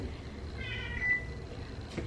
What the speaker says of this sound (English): Cats are not happy with us.